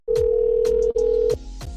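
Telephone busy tone heard when calling Mama McKnight: a loud, steady tone running unbroken for nearly a second, a short break, then another long stretch before it cuts off, with faint clicks underneath.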